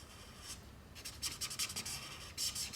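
Green Grey 3 marker shading in a drawing of the Fortnite pirate fish Poiscaille, faint close scratchy strokes in short repeated bursts over a quiet background.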